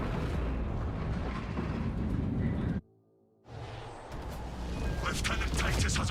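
Heavy bolter fire in a video game, a dense, roaring barrage of rapid booming shots that cuts off abruptly for a moment, then resumes loud and sustained.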